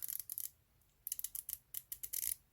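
Crisp clicks from a titanium dive watch bezel being turned, a homage diver with a slightly gritty feel, in quick bursts of sharp close ticks, some landing as double clicks, with brief pauses between turns.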